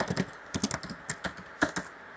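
Quick, close clicks of keys being typed on a computer keyboard, about a dozen irregular strokes in a short burst with no voices.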